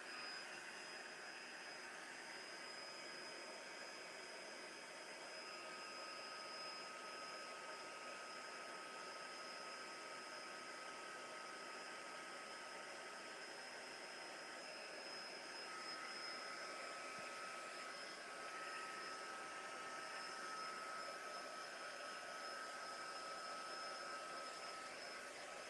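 A heat gun blows steadily to give glitter paint a light dry in a mixed media piece, a constant airy whoosh with a faint high whine running unbroken throughout, with no talking.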